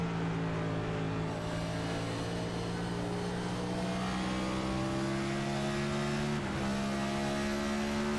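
NASCAR stock car engine in an iNASCAR sim race at Richmond Raceway, a loud steady onboard drone with rising harmonic whine as the car drifts high through turns 1 and 2, a brief shift-like dip near the end.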